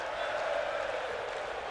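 A wrestling arena crowd in WWE 2K19 gives off a steady, moderately loud cheering roar that stays even for under two seconds, with no clear peaks.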